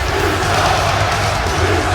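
Wrestling event crowd in an arena, a loud continuous roar of many voices reacting, dense and sustained with no break.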